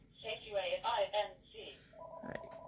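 A person speaks briefly in a room, then a telephone starts ringing with a steady electronic tone at moderate distance that continues to the end.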